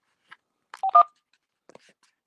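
Short electronic telephone tones beep as a call is picked up: a few brief, faint blips, then two louder tones close together, then quiet.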